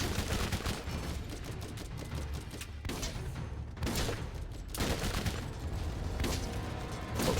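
Dense, steady video game gunfire from Borderlands fills the whole stretch as a continuous fusillade of rapid shots with a few brief lulls and no talking.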